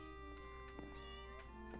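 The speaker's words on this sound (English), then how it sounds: "Hi, Jelly cat." Jelly, a pet cat in a Minecraft-style farming game, meows a few times in short repeated calls over a steady musical background.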